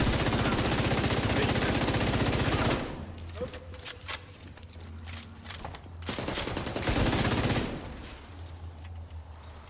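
Video game gunfire: sustained loud automatic bursts, a sparser stretch of scattered shots, then another long heavy volley, with voices talking over parts of it.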